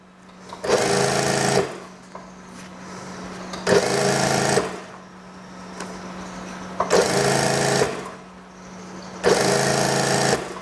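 A sewing machine stitches the elastic waistband of a long school skirt in four separate loud runs, each lasting about a second, with short pauses between them.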